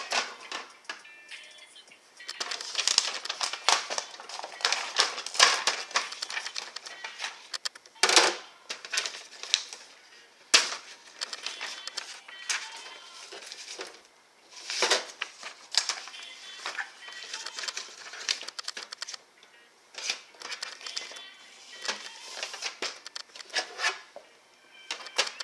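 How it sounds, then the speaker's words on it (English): An Epson WF 7820 printer runs a sample page on regular paper: a busy stream of mechanical clicks, ticks and whirring passes, with sharper clunks now and then, steady and close. "let's do a sample print from my phone"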